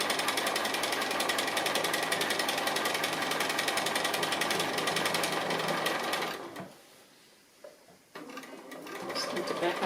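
A sewing machine stitches an appliqué bike tyre, running in a steady rapid whir that stops abruptly partway through, gives one short burst, then starts again near the end.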